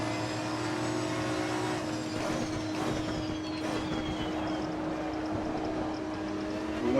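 Racing car engines roar steadily in Assetto Corsa Competizione at Zolder, a sustained droning mix of several cars with a pass or two sweeping by, fairly loud with no talking.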